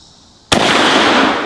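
A single sharp, loud shot from a Mauser K98 (Kar98) bolt-action rifle cracks out after a quiet pause. Its echoing roar stays heavy and sustained to the end.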